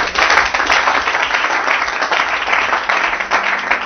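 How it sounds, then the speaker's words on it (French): A church congregation claps and applauds during a Sunday service, dense and steady throughout, loud and close. "Acclamons le Seigneur pour cela."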